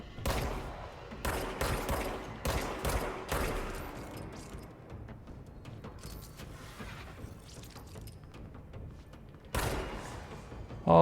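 Gunfire in the video game Control comes as rapid bursts of sharp shots, loud at first, then fading into a quieter rumbling stretch before a final harsh burst near the end.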